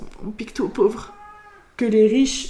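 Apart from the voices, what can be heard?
domestic cat meowing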